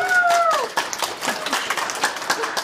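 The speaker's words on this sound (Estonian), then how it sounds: "Teeme plaksutame veel kord, jah." An audience applauds at the opening of Paide's first youth art exhibition, giving a dense, steady patter of many hands clapping that stays loud throughout, with a voice briefly over the start.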